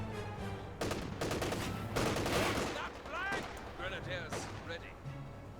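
Rifle fire in the WWII strategy game Company of Heroes 2, dense bursts of rapid gunshots crackling in volleys, some near and some distant, under a commentator's running talk.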